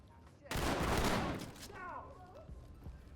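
Gunfire in a tactical shooter video game: a sudden, loud burst of rapid shots lasting about a second, fading into lower background noise with a voice-like sound afterward.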